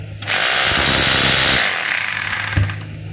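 A DeWalt D25133 rotary hammer running in chipping mode gives a loud, steady mechanical hammering buzz for about a second and a half, then a rougher, softer rattle with a sharp knock near the end.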